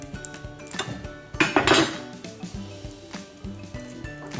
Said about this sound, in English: One quick way to peel garlic is you put it in a roll like this, and you smash it with your knife